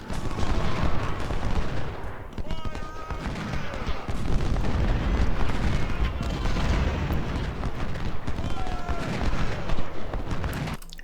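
Continuous barrage of musket volleys and booming artillery fire from a Civil War battle at Gettysburg in Ultimate General: Civil War, dense overlapping shots and rumbling blasts sustained at steady loudness throughout.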